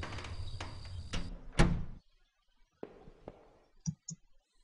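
A door creaking and clunking open in a 2D horror-noir game, with several clicks and a heavy thud early on, then quieter latch-like knocks and two short taps near the end.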